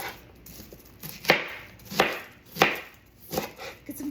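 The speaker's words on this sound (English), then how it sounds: "So you just kind of chop it up however it feels right." A knife roughly chopping vegetables on a board for bone broth, five distinct chops spaced about two-thirds of a second apart, close and moderately loud, no talking.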